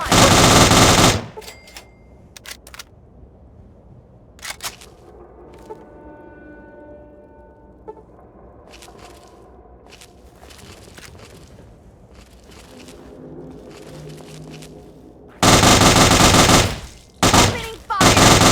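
Gunfire in the video game Fallout 3 during the Pitt add-on: loud sustained automatic bursts open and close the stretch, with scattered single shots and quieter game ambience in between.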